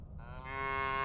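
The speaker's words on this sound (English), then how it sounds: "There's a bunch of cows." A cow moos loudly and steadily, one long drawn-out bellow swelling in strength over about a second, with a rumbling low background and no voices.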